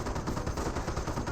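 Dense, continuous gunfire from a Company of Heroes battle, with rapid overlapping shots and bursts sounding like machine-gun and rifle fire, loud and steady throughout with no pause.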